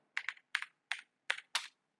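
A computer keyboard is tapped in six quick, crisp clusters of keystrokes, close and clear against near silence, with no voices.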